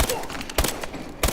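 An ASM1 submachine gun fires in Call of Duty Advanced Warfare at long range, three sharp shots evenly spaced about half a second apart, moderately loud.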